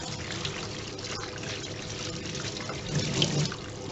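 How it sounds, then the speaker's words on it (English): Water runs and trickles steadily through dyed cotton fabric being rinsed, a soft continuous splashing pour with a slight swell near the end. "now it's a case of rinsing it through again"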